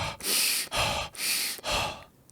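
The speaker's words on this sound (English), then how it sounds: "I breathe in. Breathe out." Slow meditative breathing, four long airy breaths, in and out, each separated by a brief pause, close and soft with no talking.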